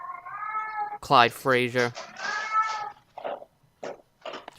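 A talkative cat meows in short bursts at close range, with a loud harmonic yowl early on, while someone talks over and between the calls.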